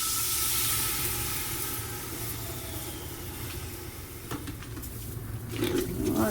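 Burgundy wine hisses and sizzles in a hot pan while deglazing for beef stew on a Camp Chef grill, a steady loud steamy hiss with a few soft scraping knocks near the end.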